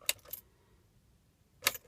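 Car keys jangling at the ignition of an E53 BMW X5, two quick metallic rattles close together, a pause, then another jingle, close and clear with no talking.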